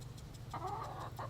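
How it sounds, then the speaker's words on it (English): A rooster crows once at a ranch, a clear harmonic call rising and falling for about half a second, followed by a short second call, over a steady low background hum. "There's a chicken, a rooster, whatever he is."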